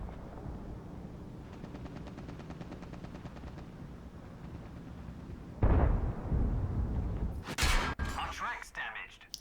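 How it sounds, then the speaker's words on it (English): A tank cannon fires in a tank video game, a sharp booming blast midway through that cuts through a steady engine rumble, followed by a bright metallic crack and rattling impacts. "That was a blind shot."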